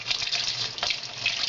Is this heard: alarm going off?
no